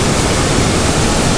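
A waterfall pours in a loud, unbroken hiss and roar close by, constant throughout with no other sounds.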